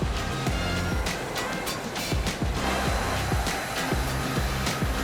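A 100-foot industrial machine washing silk rolls runs with a loud, steady mechanical whir and broadband rush, with regular low clanking pulses repeating throughout.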